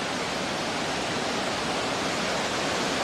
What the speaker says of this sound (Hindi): बाढ़ का यह पानी अपने साथ बड़ी बड़ी चट्टानों को बहाकर ले जा रहा था।